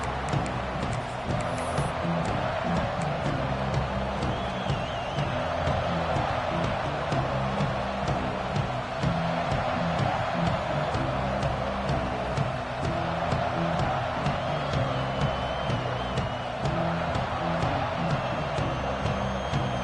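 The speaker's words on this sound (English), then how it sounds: "This crowd ready to make its presence known." Football stadium crowd at an Alabama game, a steady, dense roar of many voices filling the whole span, loud and continuous with no clear peaks, a broad wash of cheering and chatter.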